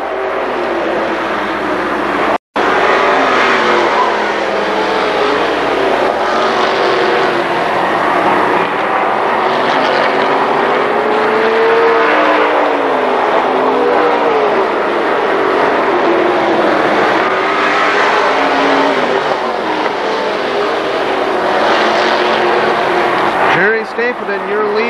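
Stock race cars roar continuously around the Kil Kare Speedway oval during the 1996 Labor Day Championship, a dense, steady engine drone with rising and falling pitch as cars pass, heard under a track announcer's commentary.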